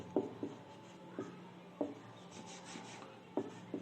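Chalk or marker scratching across a board in a Hindi-medium Class 11 chemistry lecture, with short bursts of strokes repeating every second or so over a low room hum, and no talking.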